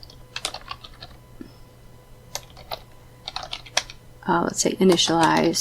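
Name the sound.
typing code on a computer keyboard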